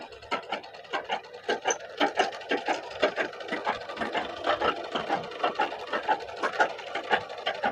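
Piko sewing machine stitching embroidery at a low speed setting, a close, continuous rhythmic whirring and clattering of fast needle strokes throughout.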